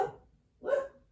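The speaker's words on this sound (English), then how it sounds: "Oh, dog's mad." Two sharp barks from a dog, close and fairly loud, separated by a short pause, with no talking over them.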